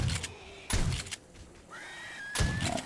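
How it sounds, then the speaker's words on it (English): Zombies banging on a metal security grate in 7 Days to Die, three heavy thuds spaced unevenly over a few seconds, moderately loud, with a faint whining tone between impacts. "It sounds like the zombies have run around to the outside, just to my left over here, and they're trying to come in through the security grate there"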